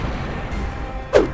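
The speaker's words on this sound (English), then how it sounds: "this cool cannon on a cart that stores up to 9 shots" A single sharp, loud blast from a cart-mounted cannon in the Monster Hunter video game cracks out near the end, following a low rumbling background.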